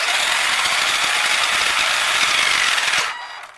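A Redcat Racing Blackout XTE RC car's electric motor runs in reverse, a steady, loud mechanical whine and rattle that holds for about three seconds before winding down and fading.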